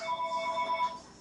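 A phone rings with an electronic ringtone of an incoming call, a short repeating pattern of bright beeping tones at moderate level, with no talking.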